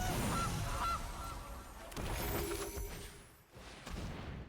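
Two brief, faint goose honks from a card in the digital game MTG Arena, heard through a dense, noisy game soundscape with rumbling effects.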